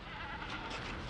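A goat bleats in a single short, faint call, being bought in Africa, with outdoor background noise and no talk.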